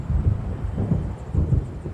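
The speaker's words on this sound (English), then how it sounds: "It seems there's a storm coming." Low, rolling thunder from an approaching storm in the video game Alan Wake Remastered, a steady rumble with swelling pulses heard alone, no talk.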